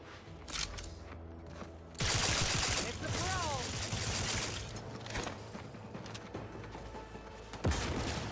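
Rapid bursts of gunfire from a weapon in the video game The Outer Worlds 2 erupt loudly and repeatedly over a dense in-game soundscape, with a sharp final shot near the end.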